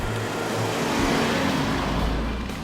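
Volkswagen Beetle Dune on the road, a steady car engine and tyre drone that swells slightly mid-pass, continuous with no talk.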